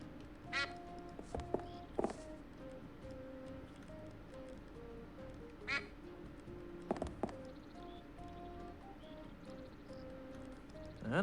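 A duck in Escape from Monkey Island quacks in scattered short bursts over a faint, quiet background, with a few clicks between the calls.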